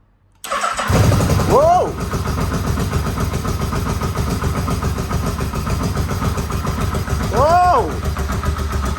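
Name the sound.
Yamaha Vmax motorcycle engine starting on first kick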